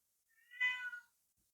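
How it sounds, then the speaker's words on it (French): A single cat meows once, a short, clear, fairly close call rising and falling in pitch, alone in an otherwise quiet room. "Désolée pour mes chats, comme d'habitude."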